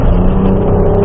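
Loud, close roar of a Ford Ranger Raptor engine pulling hard on an off-road course, a continuous throaty drone with no voices.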